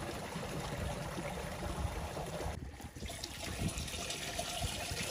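Water pours steadily into a 25-litre sprayer tank on a farm, a continuous trickling splash that briefly dips partway through before running on at an even level.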